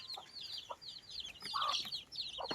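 Backyard chickens, a pair of hens raised at home, cluck and chirp in short repeated bursts close by, with no talking.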